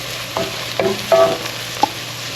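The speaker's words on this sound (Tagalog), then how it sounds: "ginisa na natin ang ating onion at garlic" Onion and garlic sauté in a pan with a steady sizzle under a low constant hum. A few clinks of a spoon stirring against the pan stand out above the sizzle, and no one speaks.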